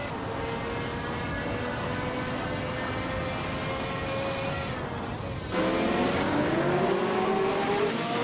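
Race cars from the GT1 and Retro DTM classes lap the Algarve circuit in a video game, engines droning loud and steady, then a close car surges past with a sharper, rising rev in the final seconds.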